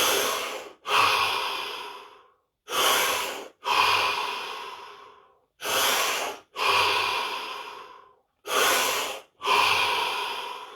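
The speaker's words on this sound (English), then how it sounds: "5 deep breaths" Four paired sets of deep breaths during a guided breathing session, each a long slow inhale and exhale separated by short silences, close and clear with no talking.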